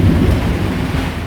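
Thunder rolls from a lightning squall at sea, a heavy, continuous low rumble filling the whole moment with rain hissing beneath it and no voices.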